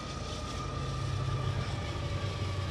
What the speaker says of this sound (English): This train is actually a football field long.